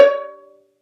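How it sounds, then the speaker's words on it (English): A single plucked C sharp on the A string rings out clearly, then fades away within about half a second. "this is going to be a C sharp"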